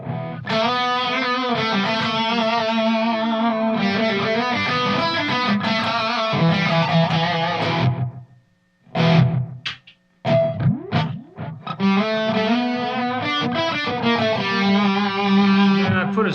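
Gibson SG electric guitar played through an echo effect, loud sustained chords and riffs with a brief gap and scattered plucked notes before the full playing returns.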